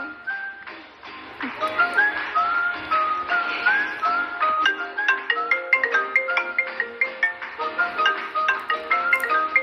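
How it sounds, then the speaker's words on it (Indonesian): A phone rings with a video-call ringtone, a bright, repeating electronic melody of short whistle-like notes that plays steadily and fairly loud throughout. "Tante Nadine video call Mama nih."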